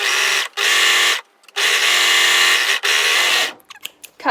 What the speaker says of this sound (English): Now I'm going to overlock those side seams